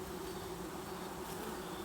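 Honeybees buzz steadily around a hive frame during a beekeeping inspection, a constant low droning hum from many insects close by, quiet and unbroken.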